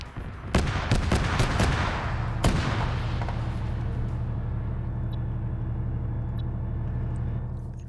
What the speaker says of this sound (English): I just heard another launcher sound